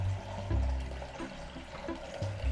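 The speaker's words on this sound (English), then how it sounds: "I'm going to pour some hot water on this side and cold water in the other" Tinted hot and cold water pours into a container for a weather-front demonstration, a continuous splashing gurgle with low sloshing surges, close and steady.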